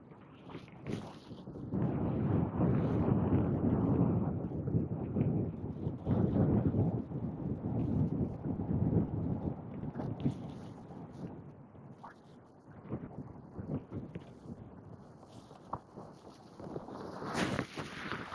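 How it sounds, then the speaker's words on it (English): Wind buffeting the microphone on a fishing boat on the Derwent, a continuous low rumbling roar that swells and eases across the whole stretch. "Sorry, that wind's blowing us."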